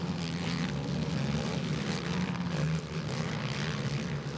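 A camera drone flies over a motocross race, its buzzing propeller drone steady and loud throughout without pause, a broad airborne whir filling the scene with no voices.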